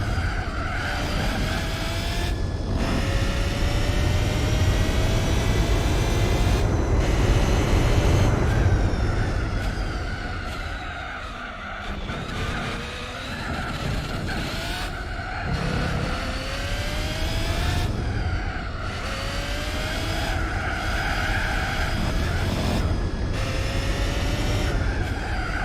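Cadillac race car driven in Gran Turismo 4, its engine droning loud and continuous with rising and falling revs through gear shifts, tire skids mixed in, no talking.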